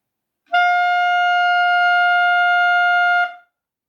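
A B-flat clarinet sounds a single sustained third-octave G, clean and steady for under three seconds, starting and stopping abruptly in an otherwise silent room.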